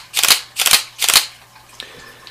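A Sony A230 entry-level DSLR fires its shutter in continuous mode, giving three loud, close, evenly spaced mechanical clacks at a slow burst rate, followed by quieter clicks as the camera settles.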